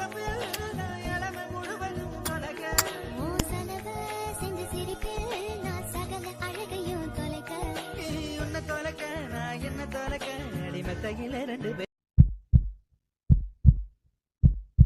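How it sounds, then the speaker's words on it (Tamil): A cartoon heartbeat effect thumps in three lub-dub pairs, heavy and close, right after a stretch of background music cuts to silence. "என்னடி ஹார்ட் பீட் இப்படி இருக்கிறது?"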